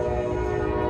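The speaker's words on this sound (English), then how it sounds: "Depending on how well this connection is, you might hear the train." A train passes through a small brewery district crossed by many rail lines, sounding a loud, steady horn with sustained tones over a continuous rumble throughout.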